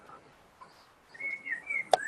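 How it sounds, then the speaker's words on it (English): Birds singing outdoors during a conference talk, heard as a faint, distant chirping whistle that rises toward the end, with one sharp brief click near the finish and no speech. "Look, the birds are singing for us outside."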